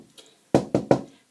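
Three quick, sharp knocks on wood come close and clear in an even rhythm, preceded by a faint tap, with nothing else around them.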